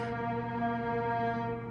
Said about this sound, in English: Did you just hear the honk?